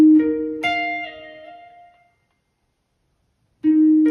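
A single guitar note plucked on the B string slides down two frets and back up, ringing clearly and fading out, followed by a fresh pluck of the same low note after a pause.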